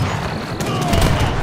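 Sharpshooter musket volleys crackle in an Age of Empires 3 battle, a dense burst of overlapping gunfire and booms, loud and continuous.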